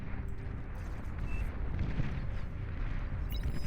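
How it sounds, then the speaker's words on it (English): Fields of artillery in the strategy game Beyond All Reason trade fire in a continuous rumbling barrage of overlapping booms and blasts, loud and dense throughout. "You do end up with these just fields of artillery firing back and forth at each other."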